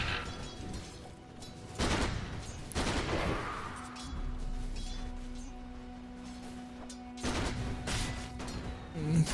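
Gyrocopter firing in the Dota 2 video game: several sharp bursts of game gunfire and impacts stand out over a steady background hum, separated by quieter stretches.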